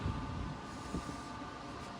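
Steady loud rumble of a train running, heard from inside a sleeper coach, with continuous wheel and track noise filling the whole stretch and a faint squeal in the background.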